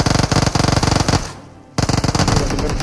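Rapid machine-gun fire from a shooting video game rattles loud and close in fast bursts, breaks off for a short pause, then resumes with another long burst.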